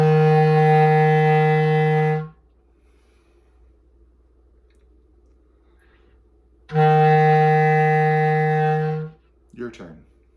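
Two long, steady low F notes from a bass clarinet played with the back thumb key, each about two seconds, separated by quiet, with a brief voice at the end.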